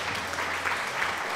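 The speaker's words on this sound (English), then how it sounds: "Thank you, applause, thank you." Applause from a crowd in The Sims 2 video game: a brief, even burst of steady clapping that fills the whole moment at moderate loudness.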